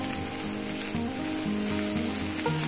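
Chopped onions hitting hot oil with spluttering cumin seeds give a steady close sizzle and crackle that runs the whole stretch, with no voices.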